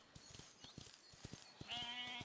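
Sheep in the Rivershine farming game bleat over soft, rhythmic footstep-like ticks, a drawn-out bleat rising near the end at moderate loudness.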